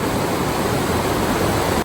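Water running through a flooded tunnel on a mountain route to Kedarnath, an even, roaring wash of broadband noise that stays loud and constant, heard alone.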